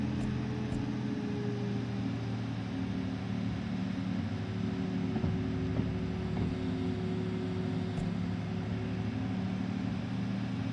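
Diesel engine of a DE6 locomotive in Derail Valley, a steady low rumbling drone with harmonic hum holding level throughout as the throttle is nudged, no speech.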